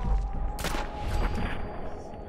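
Video game gunfire in Fallout 4, a burst of rapid shots and impacts over a busy, noisy game soundscape, moderately loud and clustered near the middle.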